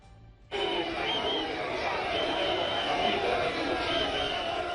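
Dense crowd murmur from a packed mass of pilgrims at the Maha Kumbh fair, a steady loud wash of many voices that swells in abruptly after a brief quiet start and holds throughout.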